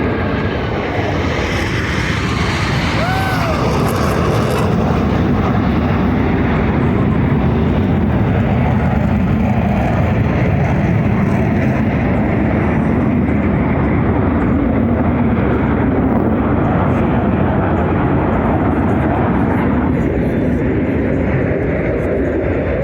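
U.S. Navy Blue Angels jets roar continuously at the Cherry Point airshow, a loud, broad engine rumble holding steady for the whole stretch, with faint crowd voices underneath.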